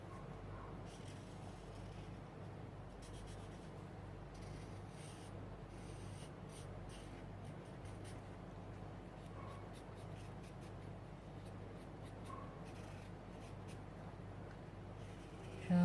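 Pencil drawing a tree branch on paper in a color painting session: faint, continuous scratchy strokes with soft, irregular rubbing, quiet and close, no talk.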